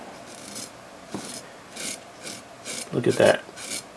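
A SOG Cash Card knife blade shaves hair off a hand in short, repeated rasping strokes, a dry scraping rhythm up close, with a brief spoken comment partway through.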